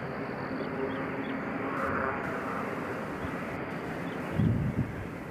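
An Amazon cargo jet at Nashville International Airport rumbles steadily nearby, a broad engine roar under wind noise on the microphone, with a brief low thump near the end.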